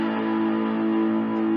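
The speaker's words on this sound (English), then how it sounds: "when you crank up an amp and put some distortion on it, let me do that real quick" An electric guitar plays a sustained A note through a cranked, distorted amp, giving a steady buzzing tone with strong harmonics that rings unbroken through the short clip.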